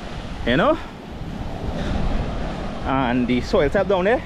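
Rough sea waves break on the rocky shore of Columbus Bay beach on the Gulf of Paria in southern Trinidad, a steady roar of surf and wind buffeting under a voice talking close by.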